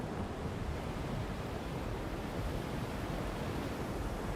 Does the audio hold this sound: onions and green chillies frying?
no